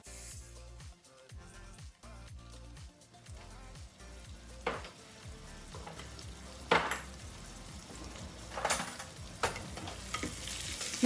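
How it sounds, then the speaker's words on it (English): Chopped onions and star anise fry in a pan, a steady sizzle with stirring scrapes and a few louder clatters of utensil against pan, close and continuous without talk. "Now to this I'm going to add the chopped onions."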